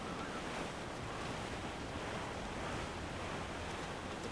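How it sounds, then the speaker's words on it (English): Open-sea waves wash and surge steadily with wind noise around a sailing ship in Assassin's Creed 4 Black Flag, a constant, soft, broad roar with no voices. "And there's the open sea."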